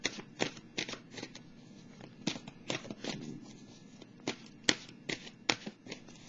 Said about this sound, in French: je vais piger une carte de l'oracle de l'âme intuitive